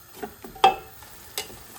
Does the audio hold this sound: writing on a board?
no